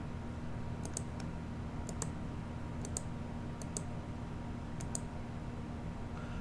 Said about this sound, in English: Remember to push the scroll lock key during emulation to enable family keyboard input